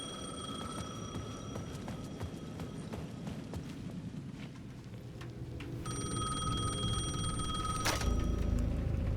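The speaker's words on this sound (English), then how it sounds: "The payphone at the edge of the plaza was ringing again." A payphone rings in the video game Alan Wake 2, repeated shrill bell bursts with a pause between them, fairly faint amid low ambient noise and footsteps.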